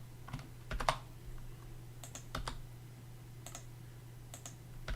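Keys on a Microsoft wireless keyboard are tapped in scattered short clusters, quiet and close, over a steady electrical hum with no voices.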